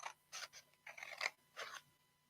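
Scissors cut through fascinator material from the center, four or five distinct crisp snipping strokes in an uneven rhythm, close and quiet against near silence.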